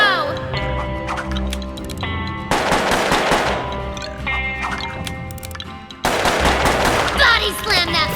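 Rapid gunfire from a twin-revolver gunslinger boss in the PS3 game Puppeteer, dense bursts of shots over tonal game music, with a voice talking over it.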